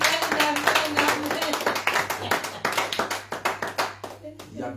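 A church congregation at a special worship service claps for Jesus in a quick, steady rhythm of loud, close handclaps, with voices over the clapping before it thins out near the end.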